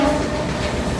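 Steady rumble of a Mumbai local train in motion, a broad continuous roar of wheels and carriage noise, close and loud, with no voices.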